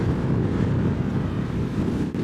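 Freezing wind gusts straight into the microphone on a hilltop above Jeonju's Hanok village, a loud, steady roaring rumble that fills the whole clip.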